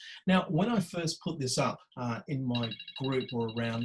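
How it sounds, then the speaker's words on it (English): A telephone rings in repeated bursts in the background while a person keeps talking over it. "that was a phone"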